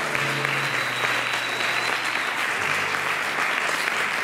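A church congregation bursts into sustained, dense applause, many hands clapping steadily and loudly for several seconds, with a faint tonal hum underneath.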